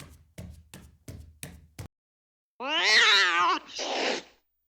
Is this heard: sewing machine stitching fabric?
no